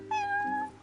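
A cat in Final Fantasy XV gives one clear, close meow that holds steady and then fades, with no voices over it.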